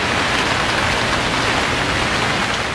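Rain falling heavily and steadily during a downpour over Lahore and Islamabad, a dense, loud, continuous hiss with no breaks and no voices.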